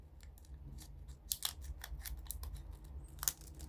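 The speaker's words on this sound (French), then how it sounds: "Je crois que je vais couper comme ça." Scissors snip at diamond painting material, a quick series of small crisp clicks and cuts bunched near the middle, faint and close over a low steady hum.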